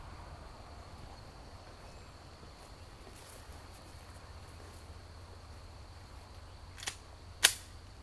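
A Glock 26 Gen 3 pistol fires two sharp, sudden shots at an outdoor shooting range. The second shot comes right after the first and is louder, following a long stretch of faint steady hiss and insect-like chirping.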